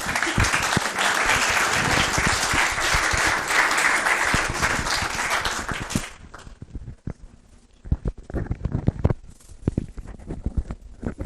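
An audience at a rotunda dedication applauds to welcome a speaker, a dense loud burst of clapping for about six seconds, then the clapping tapers off into sparse, scattered claps.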